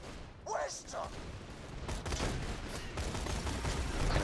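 Gunfire in the video game Borderlands 2, a fast run of sharp shots and crackling bursts that goes on steadily under dense game sound, with a voice speaking faintly near the start.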